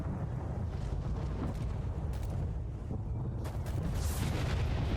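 Gunfire in the video game STALKER, with dense rumbling bursts and sharp cracks over a steady, noisy din, loud and continuous for the whole stretch.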